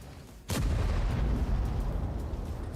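A single heavy tank cannon blast booms loudly during a one-on-one duel in World of Tanks Blitz, then rumbles and decays into sustained low battle noise.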